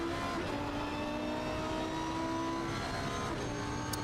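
A Lamborghini V10 race car in Assetto Corsa Competizione at Bathurst drones steadily at high revs down the Mountain Straight, a continuous loud engine note with no talking.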